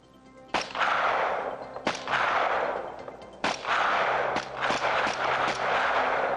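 A Canadian Forces C7 rifle fires a five-round application, loud sharp cracks spaced irregularly a second or more apart, each trailing into a long, rolling echo.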